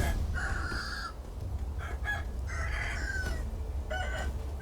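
A rooster in Sekiro crows repeatedly, its loud, drawn-out calls coming in several bursts with clucking between them over a low steady ambient background.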